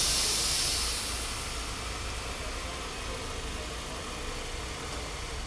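A car engine idles steadily during an oil change, a broadband hiss and low rumble that starts slightly louder and settles into an even, continuous drone with no talking.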